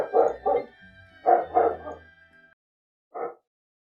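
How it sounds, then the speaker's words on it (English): A pet dog barks nearby in a quiet room: a quick double bark, then a pair of louder barks with a trailing whine, and after a pause one last single bark. "Sorry, my dog's barking."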